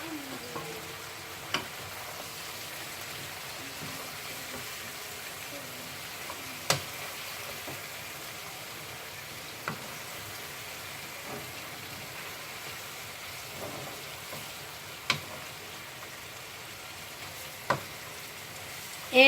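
Vegetables cooking in a pan for a family dinner, a steady quiet sizzle throughout with scattered faint ticks and small clicks.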